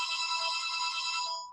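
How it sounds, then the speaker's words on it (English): A home telephone rings with one sustained, bright electronic trill that holds steady and then trails off, heard clearly at moderate volume with no talking. "that's my telephone ringing from my house"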